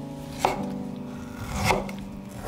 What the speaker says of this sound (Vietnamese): Tiếp theo mình xắt măng ra.